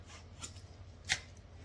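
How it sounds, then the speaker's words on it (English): A utility knife scores the paper face of a plasterboard sheet, two brief, quiet scraping slices about half a second apart, close by and alone. "All we do when we cut plaster is slice through that first layer. Yeah? That first layer of paper."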